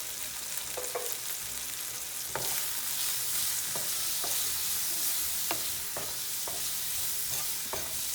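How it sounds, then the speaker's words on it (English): Vegetables and beans roast in a pan over a high flame, a continuous bright sizzle with a dozen sharp clicks and scrapes as they are stirred. "I'm just going to roast this for 5 minutes on high flame"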